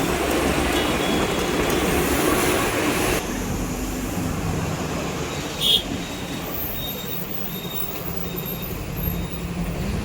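A train pulls into Kollam railway station, its steady rumble and wheel noise dropping after a few seconds, with a brief sharp squeal or clank partway through and a faint tone lingering above.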